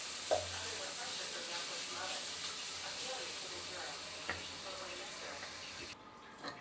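Carrot halwa cooking in ghee in a pan, being stirred with a steady soft sizzle and faint scraping, low and continuous with no voices.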